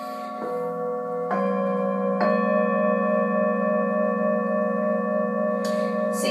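A singing bowl is struck several times, each hit blooming into a clean, sustained C sharp tone that rings on steadily with a bright shimmer near the end.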